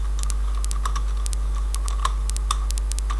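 Clicky computer keyboard typing while C# code is written, a run of light, irregular keystrokes over a steady low hum, with no talking.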